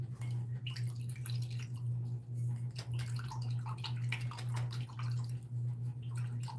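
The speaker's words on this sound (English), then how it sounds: "And this I'm going to stick in my water and clean it off real quick." A paintbrush swished and rinsed in a cup of water, with soft sloshing, dripping and gurgling splashes in irregular bursts, close up over a steady low hum.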